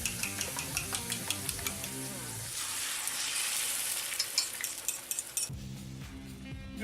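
Beaten eggs poured over lightly fried potatoes in a pan burst into a loud, steady sizzle, framed by clinking of a utensil against the pan before and after.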